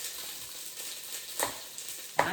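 Onions frying in a pan give a steady, soft sizzle with faint crackles and a couple of sharper pops near the end, with no talking.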